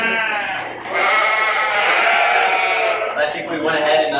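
A sheep in a show ring lets out a loud, drawn-out bleat up close, followed by a second shorter bleat, with an announcer talking over it.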